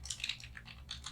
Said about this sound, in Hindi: तो यहाँ पे मैं कुछ नाम टाइप कर देता हूँ